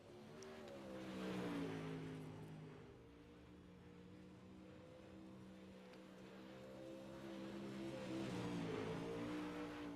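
An IMCA-style modified race car circles the dirt track at Eldora on a qualifying run, its engine droning with rising and falling pitch as it passes, heard at a distance.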